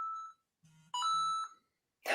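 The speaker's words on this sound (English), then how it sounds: "phone's going ballistic." A phone alert beeps in short tonal bursts, a steady tone then a lower buzz, followed by a brighter harmonic chime, fairly close and loud, ending in a burst of noise.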